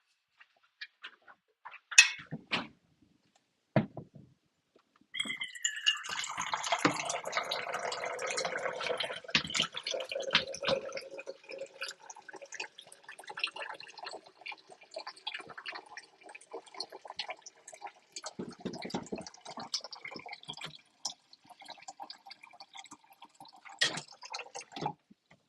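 Water pours and runs for a drink in a sustained splashing stream that begins after a few scattered clinks and handling knocks. More taps and drips follow, all fairly quiet and close.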